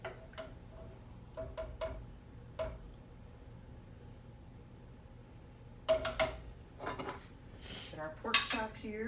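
Plating mashed jicama puree in a kitchen: scattered clinks and taps of cutlery against a plate, quiet and close, with a busier cluster of clatter toward the end.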